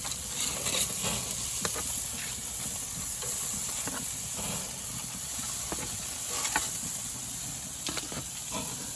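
Cauliflower steaks hiss and sizzle steadily on a grill, a dense continuous frying crackle with a few faint clicks and taps scattered over it.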